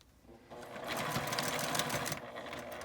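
A sewing machine runs steadily, stitching a seam across one side of a lined drawstring gym-clothes bag made of fabric, its motor whirring and needle rattling loudly and close for the whole clip, with no talk.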